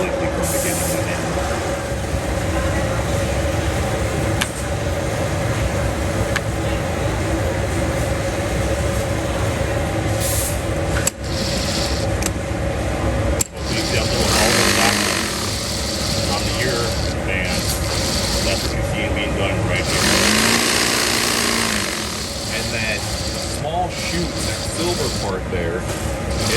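An industrial sewing machine folds and stitches binding onto a hat's ear band, running in a loud, steady mechanical drone with a few sharp clicks, while someone talks over it throughout.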